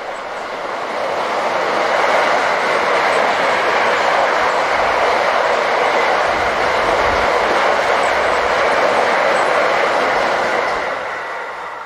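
A freight train of empty cars passes eastbound, a loud, steady rolling roar with faint clickety-clack that swells in and holds for several seconds before easing slightly at the end.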